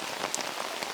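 Rain patters steadily on an umbrella during an outdoor disc golf round, a close, dense, even pattering with a few sharper drop hits.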